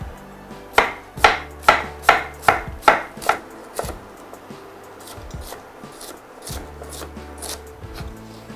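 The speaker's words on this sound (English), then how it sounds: "So now we'll slice the cabbage up." A knife chops straight down through cabbage, slicing it thin: seven crisp, evenly spaced cuts in a quick rhythm, close and clear. Quieter scraping and handling sounds follow on the board.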